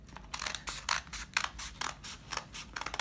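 Scissors snipping paper to cut out a snowflake, a quick run of crisp, close cuts in an irregular rhythm with brief gaps between snips.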